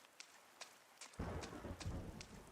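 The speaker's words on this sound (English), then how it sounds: "The rain's getting heavier." Heavy rain bursts in at once partway through, a dense roar with low rumbles of thunder, following a quieter stretch broken by a few faint knocking ticks, all from a cozy video game.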